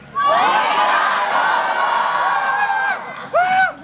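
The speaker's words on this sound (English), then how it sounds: "I think on the count of 3, everybody let's yell, "Wake up, Bobo!"" An audience of children yells a short phrase together in a loud, close burst of shouting and cheering, then a brief second shout follows after a short gap.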